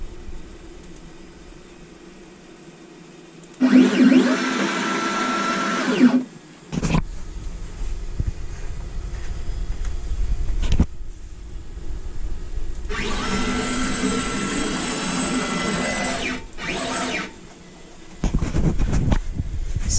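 An X-Carve Pro CNC router traveling to its park position gives loud, harsh bursts of motor and drive noise lasting a few seconds each, separated by quieter stretches and short clunks.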